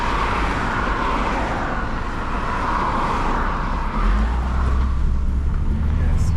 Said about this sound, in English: On traffic. Vehicle are coming.